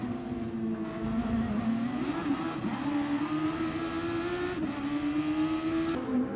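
Race cars battle around a track in a Tokyo race, their engines a close, continuous loud drone whose pitch climbs and shifts as they accelerate and jostle, with no voices.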